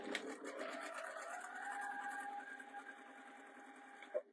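A sewing machine stitching folded patchwork fabric for a drawstring bag, a fast continuous close whirr lasting about four seconds before stopping with a small clunk.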